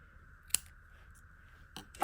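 Scissors cutting a piece of cardstock in half for a handmade card, with a couple of crisp close snips on a quiet background.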